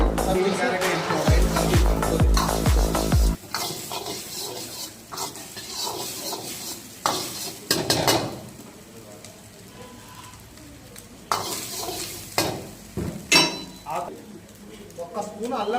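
Chicken, egg, carrots and beans are stir-fried for street-style fried rice, with a spatula clanging and scraping against a wok in irregular bursts over steady sizzling, while people talk nearby.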